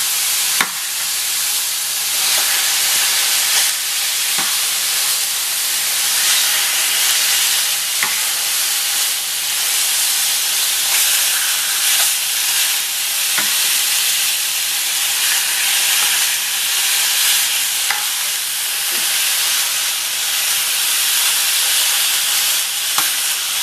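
Pork chops sear steadily in a preheated cast iron pan, giving a continuous loud sizzle with faint crackles and pops throughout and no talking.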